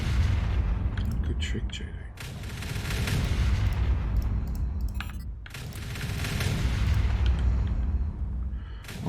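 Repeated booming artillery shell fire in the factory-building game Factorio, heavy and dense in two long rolling waves with a short lull between them, with someone talking briefly over it.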